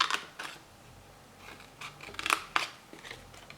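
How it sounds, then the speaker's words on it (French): Scissors snip through paper during a tea-themed mini album craft, giving a few soft, close crisp cuts spaced irregularly over a quiet background. "Ce petit bout-là, je peux le couper"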